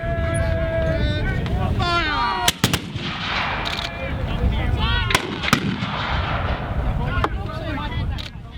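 Muskets fired in salvo at an English Civil War battle reenactment, loud sharp bangs scattered over several seconds amid crowd noise and voices calling out.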